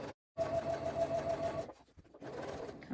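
A sewing machine stitches a seam on a crossbody bag in a steady whirring run, briefly stopping before a quieter, slower burst of stitching resumes.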